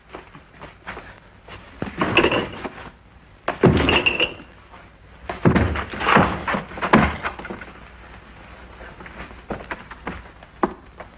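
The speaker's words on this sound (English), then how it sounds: "Force the door open." Door being forced open in a period house: several heavy thuds and bangs spaced apart, with a rattle and a final burst of impact and knocking, fairly close, no speech.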